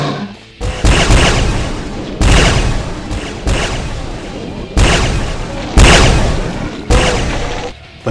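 Railgun zombies firing in the DooM mod Complex, with a run of loud, booming energy blasts that recur about every second and a half, each burst decaying into a sizzling tail, no talk over them.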